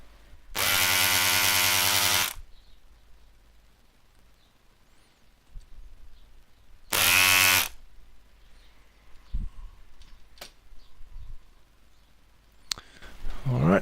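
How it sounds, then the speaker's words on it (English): A desoldering gun pulls solder off LED joints in a torch, giving two loud, steady mechanical buzzing bursts, one long and one shorter, separated by quiet handling clicks and faint background noise. "Now, to remove these LEDs, I'll use my desoldering gun"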